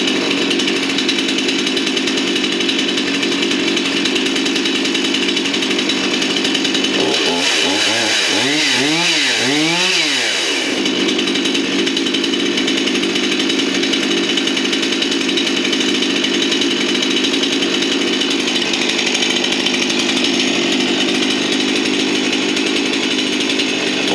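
A brand-new PRORUN PCS560C chainsaw engine runs loud and continuous after a pull start, holding a steady buzzing idle with a brief revving rise and fall partway through.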